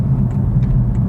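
A BMW i3 facelift electric car with the 94 Ah battery drives along, a loud steady low road rumble from inside the cabin with no voices.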